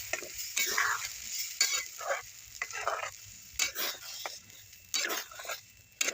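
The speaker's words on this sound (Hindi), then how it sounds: "और इस सूजी को हमें तब तक चलाना है जब तक कि ये डो के फॉर्म में ना आ जाए।" Semolina being stirred in a kadhai with fried curry leaves, a spoon scraping and swishing in uneven strokes over a soft, steady sizzle, close and alone.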